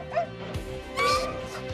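A Korean Jindo dog growling and barking during a dominance face-off with a Pungsan dog, heard as short close yips and whimpering barks over a low rumbling growl, brief and tense.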